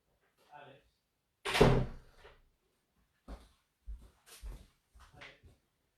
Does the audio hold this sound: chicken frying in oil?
no